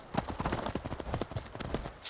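Horse hooves clip-clop in the video game Skyrim, a quick uneven patter of hoofbeats moving at a trot, close and clear, with no voices.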